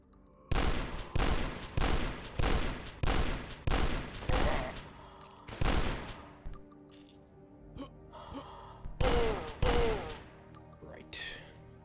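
Hunting rifle gunfire in the video game DUSK: a rapid series of about nine loud, sharp shots at a steady rhythm, then a pause and two more blasts near the end, with clattering game effects between them.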